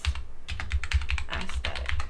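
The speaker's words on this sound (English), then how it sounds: "Okay, can we type in lady knight romance" Rapid keystrokes on a computer keyboard while a search is typed in, a close, steady run of clicks that pauses briefly near the start and then continues through to the end.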